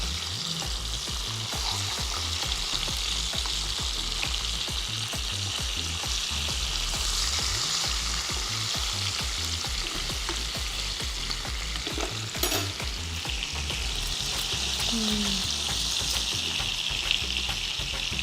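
Fish pieces for a Telugu fish curry sizzle steadily in hot oil while being gently turned in the pan, a continuous close crackle with soft scraping and stirring touches throughout.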